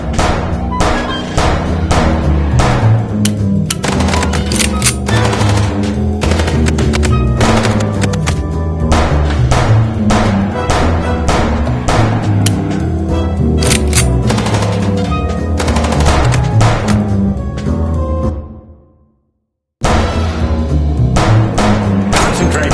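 Gunfire from a moving car in the Chicken Police video game: loud rapid bursts of shots densely packed for nearly twenty seconds, then a sudden short silence before the firing resumes.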